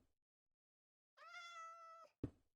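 A cat in the game Minecraft gives a single clear, drawn-out meow in otherwise quiet surroundings, followed a moment later by a short thump.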